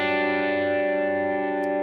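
Guitar triad chord played with the open G string ringing, a single sustained strum with a shimmering effects-laden tone, chorus and echo, decaying slowly on its own.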